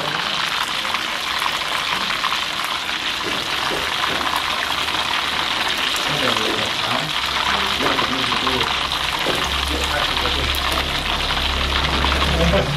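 Chicken wings fry in hot oil at a cheap fried-chicken stall in a narrow alley, a continuous bright sizzle and crackle with low background hum and faint voices underneath.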